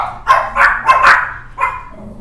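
Dogs barking in a home, a loud close burst of four or five quick barks, then a pause and another single bark, with no talking over them.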